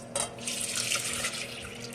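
Raw milk pours steadily and splashes over in a kitchen, a close, continuous gushing wash that begins with a brief splash and carries on for two seconds.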